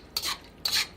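A spoon scrapes twice through Thai basil chicken sauce in a pan, two short raspy strokes close by with no talking.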